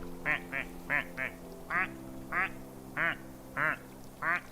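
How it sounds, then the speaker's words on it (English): A cartoonish duck quacks in a fantasy video game, nine or ten distinct nasal quacks in a steady, evenly spaced series, fairly close and clear over a low electronic hum, with no talking. "Gonna be a lot of quacking in the next few minutes."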